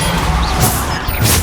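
Depulso spell impacts in Hogwarts Legacy combat, two loud crashing bursts with a bright ringing edge landing over steady low game rumble, close and forceful.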